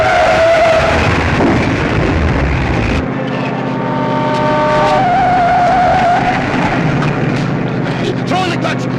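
A runaway car careens out of control in a 1951 comedy scene, with loud tire screeches and engine roar, a sharp crash-like burst midway, then continued engine drone and whining squeals.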